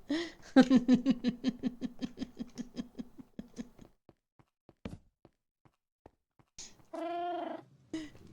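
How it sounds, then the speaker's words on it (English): Cat meow alert sound on a Minecraft stream: a rapid series of short, evenly spaced mewing chirps for several seconds, then sparse faint clicks, followed by one drawn-out meow and a final brief chirp, all fairly close and clear. "Thank you for the meow."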